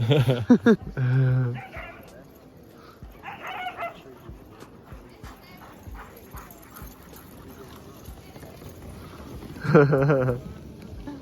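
Sled huskies bark and yip in short, sharp bursts near the start and again close to the end. Quieter rustling and murmuring voices fill the stretch in between.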